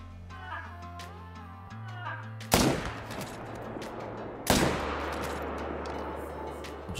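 Two sharp, loud rifle shots fired at a reindeer in the hunting game theHunter Call of the Wild, about two seconds apart, each cracking over low game ambience and ringing out in a long decaying tail.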